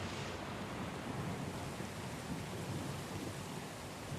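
A stormy night at sea in the video game Pillars of Eternity 2: Deadfire, with dense heavy rain pouring continuously and low thunder rumbling underneath.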